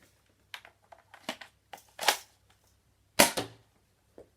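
Several sharp clicks and pops from a UDL Super 90 XM1014 shell-ejection Nerf shotgun, fired with an official Nerf dart, scattered irregularly with a couple of stronger snaps near the end, close and without talk.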